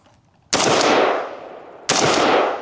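Two sharp rifle shots from a PSA M16A4 with a rifle-length gas system and buffer, about 1.4 s apart, each loud and close with a long decaying outdoor echo, no voices.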